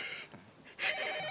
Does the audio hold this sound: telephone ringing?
yes